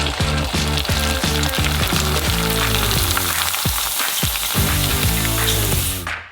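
Shrimp chips fry in hot oil with a loud, dense, continuous sizzle and crackle, over a steady rhythmic thumping that stops just before the end.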